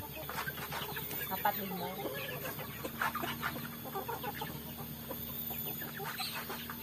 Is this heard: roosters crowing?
yes